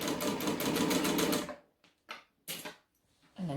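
A sewing machine backstitches a large bag in a rapid chattering burst of about a second and a half, followed by short stop-start clicks and brief mechanical bumps.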